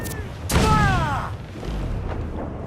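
Ship cannons firing in the Assassin's Creed IV Black Flag pirate naval game: a heavy boom with a rumbling tail, followed by lower thuds, mixed with game voices and whistling tones.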